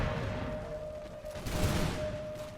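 A musket volley in the Imperial Splendour game, Prussian campaign, crackles as a dense rolling fusillade of overlapping shots, sustained and fairly loud over a steady background tone.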